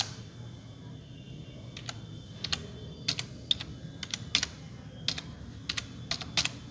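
Someone types an email address on a computer keyboard: a steady run of crisp, close key clicks in uneven bursts over a low background hum.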